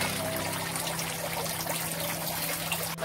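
Water pouring steadily from a controlled spout into a tilapia pond, a continuous close splashing rush with a steady low pump-like hum underneath, alone without talk.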